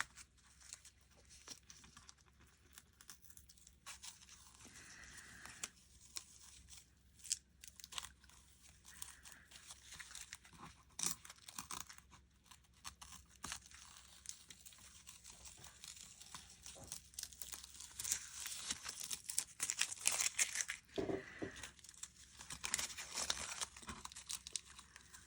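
Paper tears and crinkles in slow, uneven stretches as a self-care card's artwork is peeled away, with soft crunching and ripping close up and quiet, growing louder near the end.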